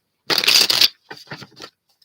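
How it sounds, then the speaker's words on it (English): Tarot cards being shuffled by hand during a live reading: one dense riffling burst followed by three shorter, quieter shuffles, close and alone with no talk. "Once I started shuffling them, I wasn't feeling them."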